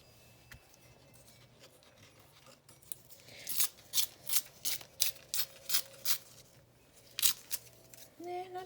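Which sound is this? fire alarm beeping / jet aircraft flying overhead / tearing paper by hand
tearing paper by hand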